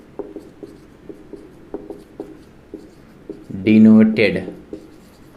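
Chalk or marker tapping and scratching on a board during a physics lesson on magnification, a run of short light strokes under a teacher's speech, with a louder burst of talk near the end.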